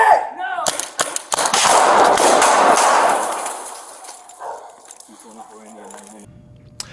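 Rapid gunfire erupts during a police shooting at an outdoor street scene, a burst of loud sharp reports with echoing clatter, followed by shouting voices and fading commotion.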